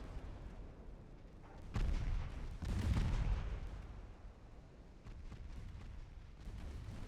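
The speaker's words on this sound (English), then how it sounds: "Ammo detonation, I saw that." Ship ammunition detonation in the naval game Ultimate Admiral Dreadnoughts: a heavy, rumbling explosion swells up near the two-second mark and peaks around three seconds, then settles into a low, continuous battle roar with no voices.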